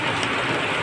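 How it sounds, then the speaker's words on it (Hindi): Large hailstones fall steadily in a heavy hailstorm, a dense, continuous hiss and patter of many impacts at close range with no talking. "और देखो इस तरह से दाने पड़ रहे हैं बड़े बड़े, ओलावृष्टि हो रही है"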